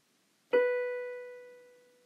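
One musical note B sounds after a brief silence: a sharp attack, then a steady ringing pitch that gradually decays, with nothing else heard.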